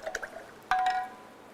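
Water is put onto drying clay: a few soft drips early on, then a sharper wet splash with a brief ringing tone, quiet and close, with no talk.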